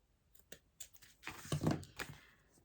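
Paper being cut with scissors while trimming lace for a shabby-style scrapbook album, a few faint close snips and rustles building to a louder crunching cut, no talking.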